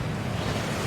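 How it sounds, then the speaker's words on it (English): A waterfall in the video game Hogwarts Legacy, a steady, dense rush of falling water filling the whole second, loud and continuous with a low roar underneath and no voices. "That waterfall washes away all enchantments."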